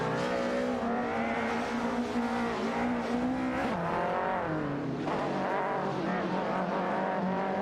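Race cars in an AI-driven racing video game scream along with high-revving engines, pitch rising and dropping through gear shifts and corners, steady and close throughout.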